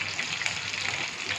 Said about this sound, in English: then you add twice the amount of water